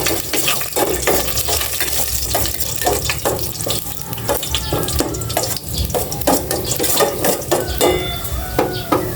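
Sliced ginger sizzles in hot cooking oil in a pan at the start of a Filipino ginataang kalabasa at sitaw, with steady crackling and frequent scraping and stirring clatter of a utensil, close and continuous.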